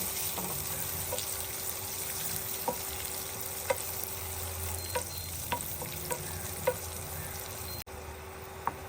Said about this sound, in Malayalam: നട്ട്സും കിസ്മിസും എല്ലാം നന്നായിട്ട് റോസ്റ്റ് ആയിട്ടുണ്ട്.